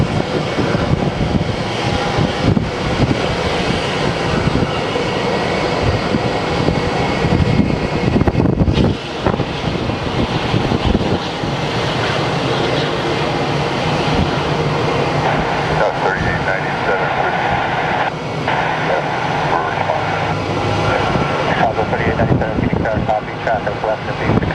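A Sun Country airliner arriving from Minneapolis at Phoenix Sky Harbor airport, a steady loud roar of jet engines mixed with wind buffeting the microphone, with talking over it.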